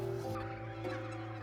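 Turkeys and geese on a farm raised for the Christmas market make a close, steady chorus of gobbling and clucking, with overlapping calls and no one talking.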